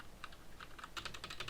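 Keys on a mechanical keyboard tapped sparsely at first, then in a faster, denser run of clicks, captured at low level by a Sahara SD2402 clip-on microphone.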